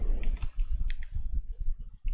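Quick bursts of keys being typed on a computer keyboard, soft close clicks in short runs with brief pauses, under a low muffled background rumble.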